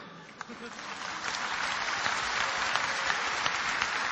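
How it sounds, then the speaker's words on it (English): An audience claps at a religious debate, a steady, dense burst of applause that swells slightly and holds, with no talk over it. "you're clapping"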